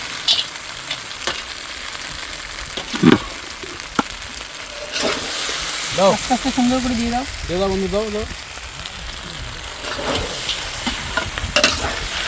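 Vegetables sizzle and get stirred in a hot pan with chili sauce, spatula scrapes and bursts of frying crackle rising and falling, while a person talks over the cooking.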